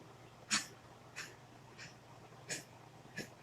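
A pet dog named Duckers comes up close, giving five short sniffing or snorting bursts spaced about a second apart, faint over quiet room tone.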